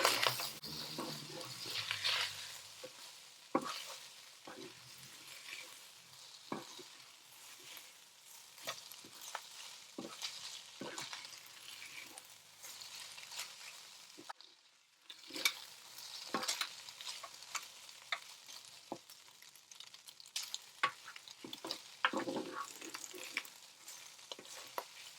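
Mixed vegetable egg fried rice is stirred in a multicooker with a soft continuous sizzle under repeated scraping, clicking strokes of a utensil against the pot, close and steady, with a short pause midway.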